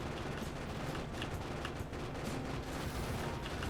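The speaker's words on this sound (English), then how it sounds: "Let our turrets thin them out." Turret guns in Factorio fire rapid continuous bursts at attacking enemies, a dense, even stream of distant rattling shots under constant background game noise.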